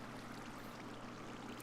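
Water released in a Minecraft seed and wildflower farm, flowing as a steady, faint rushing stream.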